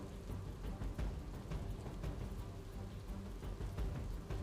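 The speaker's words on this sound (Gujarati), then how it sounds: "દક્ષિણ ગુજરાત સહિત અનેક વિસ્તારોની અંદર જે ધોધમાર જે વરસાદ વરસી રહ્યો છે" Heavy rain falls in Surat during a monsoon downpour. A faint, steady, even wash of rainfall continues throughout with no voices.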